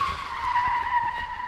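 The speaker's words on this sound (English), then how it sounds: "I think I heard a car." A cartoon car skids with a loud, sustained tire squeal that holds for over a second, alone with no talking over it.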